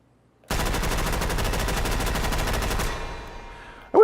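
A fully automatic Thompson SMG fired in a VR video game, one continuous rapid burst lasting over two seconds that cuts off abruptly, followed by a fading tail and a sharp clack at the end.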